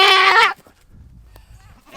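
A goat lets out one loud, close bleat during ear tagging, then the bleat breaks off into quiet shuffling, with a fainter bleat starting right at the end.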